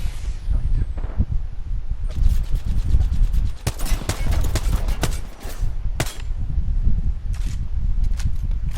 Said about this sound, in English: Now they're exchanging fire with me.